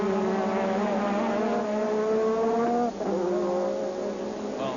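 Formula 1 cars at the 1985 European Grand Prix at Brands Hatch, high-pitched engine whines passing close, one screaming car dropping in pitch as it goes by and another following, loud over the crowd-like background.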